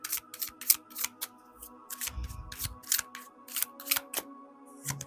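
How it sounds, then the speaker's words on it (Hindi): Tarot cards being shuffled and pulled, a string of crisp papery flicks and snaps in an uneven rhythm, close and fairly quiet over a faint steady background hum. "लेट मी सी, कार्ड्स आपके लिए पुल करती हूँ"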